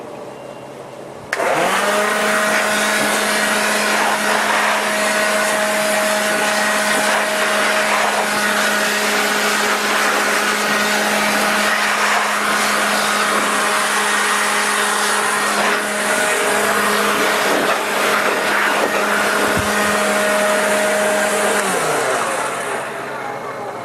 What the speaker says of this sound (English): let me go blow the dust out of this